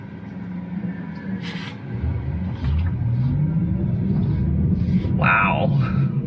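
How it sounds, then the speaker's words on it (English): A Tesla Model 3 electric car accelerating on a sunny California road, a low steady rumble of road and cabin noise that swells and rises in pitch, with a voice speaking briefly over it. "You mash the gas, it's going to go"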